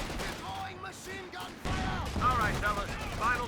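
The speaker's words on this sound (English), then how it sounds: "Try and shoot at the mines," Gunfire aimed at mines in the World War II strategy game Company of Heroes 2: bursts of shots come in a rapid volley, partly under a speaking voice.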